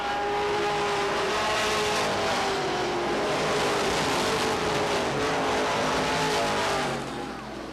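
Stock race cars on the final lap at Beech Ridge Motor Speedway in 1990 roar past in a dense, continuous engine wail with tire squeal mixed in, fading slightly at the close.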